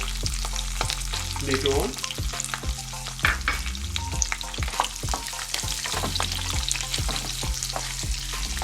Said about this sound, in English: on low flame, and now I'm going to add ginger and garlic to it